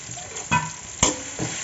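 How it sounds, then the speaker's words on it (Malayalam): Sliced onions for a beef biryani frying in a pan, a soft sizzle broken by three scraping stirs of a spatula against the metal, close and clear with no voices. "ഈ ഗ്യാപ്പിൽ നമുക്ക് നമ്മുടെ സവാള ഫ്രൈ ചെയ്തെടുക്കാം"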